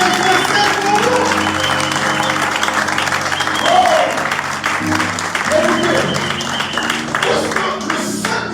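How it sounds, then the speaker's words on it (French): Church congregation clapping and cheering at a service, a dense sustained applause with voices and music-like tones mixed underneath, loud and steady for several seconds. "Est-ce que tu peux faire tes mains acclamer pour l'intercesseur?"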